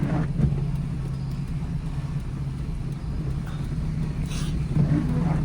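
A car rolls slowly along during a beginner's driving lesson, its steady low engine hum and road rumble continuous and fairly close throughout, with no speech over it.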